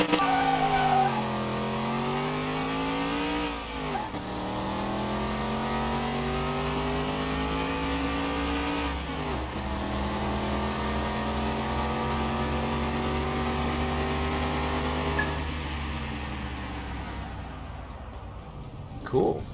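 A Cadillac Eldorado engine in Car Mechanic Simulator 2021, revving hard through several rising gear pulls with drops between shifts, loud and continuous before winding down at the end.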